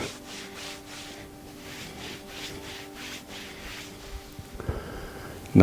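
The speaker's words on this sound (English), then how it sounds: "And then rub the back of the knees briskly" Hands briskly rub the backs and sides of the knees in a repeated rhythmic swishing of skin and fabric, close and soft. A louder brief rustle comes near the end.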